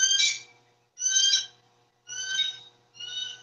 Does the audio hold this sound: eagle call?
yes